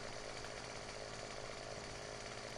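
Continuous chainsaw roar in a farming game as a felled tree is bucked into roughly seven-meter lengths, a dense, even, close whine holding steady throughout.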